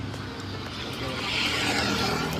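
Scooty ridden on the road from Delhi to Rishikesh, a continuous engine drone with wind rush that swells slightly louder partway through, no talk.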